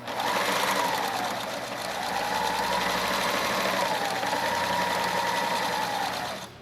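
A sewing machine runs a backstitch on fabric for a small pouch, a steady loud mechanical whir with a rapid needle rhythm that holds continuously and eases off at the very end.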